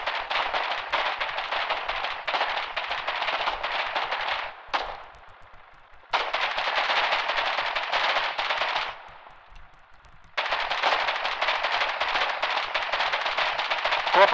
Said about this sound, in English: I think I hear a field machine gun.